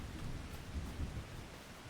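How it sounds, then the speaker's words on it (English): Steady rain with low rumbling thunder in Farming Simulator 25, a continuous wash of rainfall and deep rolls filling the short stretch with no voices. "harvesting while it rains reduces yield"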